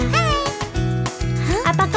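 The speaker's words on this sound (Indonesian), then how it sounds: "apa kau lihat kucing? Meow." A cat meows several times in quick succession, close and clear, over a bouncy children's song with music playing throughout.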